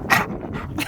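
Ashka, a pet dog, pants and snuffles right beside his owner: a few quick, close breathy puffs and small whimpering sounds in a short burst.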